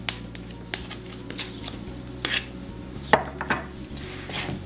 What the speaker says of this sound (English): Using our spatula, we remove the dough from the spoon.